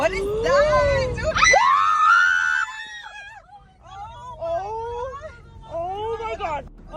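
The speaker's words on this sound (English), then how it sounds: "The group screamed as they faced this unexpected terror." Several people scream in terror inside a car as a masked figure lunges at it, loud overlapping shrieks and wails rising sharply, then trailing into fainter moaning cries and frightened voices.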